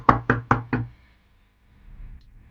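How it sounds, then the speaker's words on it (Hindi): Four loud, evenly spaced knocks on a door ring out close together in quick succession, followed by near silence and a faint low rumble. "जिस दरवाजे पर किसी ने जोर से दस्तक दी।"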